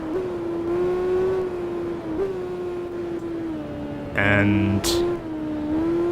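Suzuki GSX-R 400 motorcycle engine in the Tourist Trophy racing game, holding a steady high-pitched drone with small shifts in pitch, then a brief louder burst near the end, all under continuous talking.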